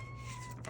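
A needy house cat named Ashby gives a single short, faint meow close by, in a quiet room with a low steady hum behind it.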